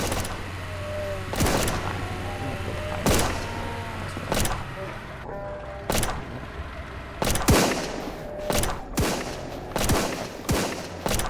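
Gunfire in the zombie survival game SurrounDead, a series of loud, sharp shots and short bursts at irregular intervals, some closely spaced, over a low ambient hum.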